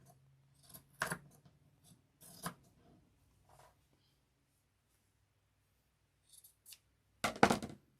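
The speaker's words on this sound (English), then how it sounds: "this one I'm just going to cut off, whoops, right at this fabric" Scissors snip through quilting fabric while a quilted zipper case is sewn, a few sharp separate cuts spread out with quiet gaps between them, ending in a louder cluster of snips.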